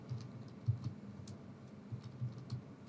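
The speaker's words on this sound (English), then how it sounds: "I'm just typing this" Light, quiet clicking of a computer keyboard as a short caption is typed, soft irregular keystrokes in a steady patter with no talking.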